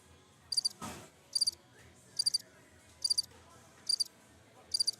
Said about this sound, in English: Just the crickets.